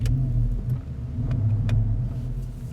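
Porsche Panamera Turbo with its 4.8-liter twin-turbo V8 accelerating, a loud, steady low engine rumble that rises and swells throughout, with no voices.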